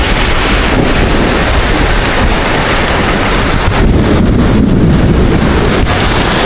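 Typhoon wind and rain roar loudly and steadily in Taiwan, with constant buffeting gusts hitting the microphone and a dense hiss of rain and no break.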